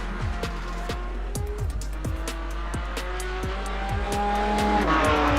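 Porsche Cayman GT4 race cars run on a circuit during qualifying, engines revving hard through repeated upshifts and downshifts, loud and close, with a steady drone underneath.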